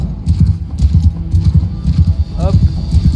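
A loud, steady clatter of hooves comes from horses galloping in a battle in Bannerlord, with a brief whinny near the end. The hoofbeats sound close and run under ongoing speech.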